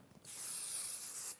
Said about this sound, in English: Do a bit of a spray there